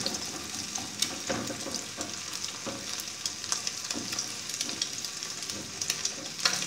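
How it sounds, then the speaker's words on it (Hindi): Eggs fry in a pan and are broken into small pieces, giving a steady close sizzle with scattered scraping and tapping from stirring throughout, without any talk. "अंडे को पका लेंगे, अंडे को थोड़ा थोड़ा तोड़ लेंगे।"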